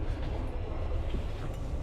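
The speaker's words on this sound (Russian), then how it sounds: "Ну, это старый поезд, наверное, самый старый, как раз таки, на котором мы поедем с вами до Войковской." An old Moscow metro train, its worn cab interior rumbling with steady low-frequency running noise, continuous and fairly close, with no talk over it.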